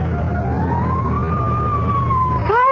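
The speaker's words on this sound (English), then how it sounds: "Fire engine?" Fire engine siren in a radio drama, a loud close wail rising slowly and holding, then shifting sharply at the end, over a low engine rumble.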